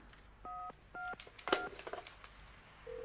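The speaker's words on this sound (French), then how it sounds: "T'appuies sur étoile 35, le téléphone compose le dernier appel reçu" Telephone keypad dialing tones after star 35 is pressed on a 1990s phone: a few steady two-note beeps separated by short gaps, then a brief ringing tone starting at the end, with some faint background rustle.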